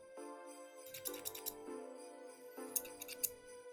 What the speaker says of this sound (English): I also have these cool scissors.